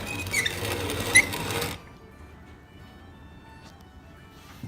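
A grain mill grinds soft sorghum into flour, a close, steady mechanical whirr that runs for nearly two seconds with a brief squeak, then drops to a quiet low hum.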